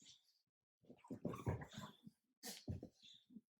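A dog nearby makes soft whimpering, breathy growl-like vocal sounds in two short bursts separated by a brief pause, fairly quiet and with no one talking.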